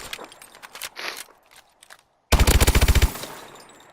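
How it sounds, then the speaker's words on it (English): A weapon fires on the firing range in Call of Duty: Advanced Warfare, a few scattered shots and then a loud, rapid automatic burst of about a dozen close rounds. "So you go to the firing range, and boom, you can test out this weapon immediately."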